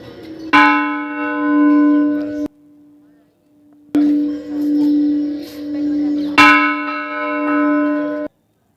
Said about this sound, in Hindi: जैसे ही दाखिल होते हैं तो वहाँ एक घंटा है, उसको हमने बजाया